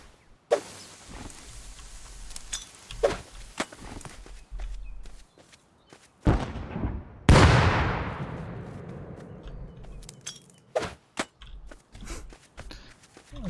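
A survey charge explodes in the video game Rust: one loud, close blast whose rumbling tail decays over several seconds, with scattered footsteps and light clicks before and after.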